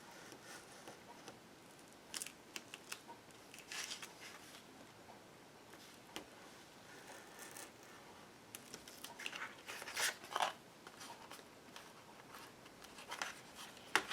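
Faint snipping and scratching as a blade or scissors works back through a cut in a sheet of Citra Solv-treated paper, small irregular clicks and rustles close by, with no talking.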